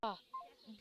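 A telephone number being dialed, a few short electronic tones that sit under a brief voice and end in a sharp click.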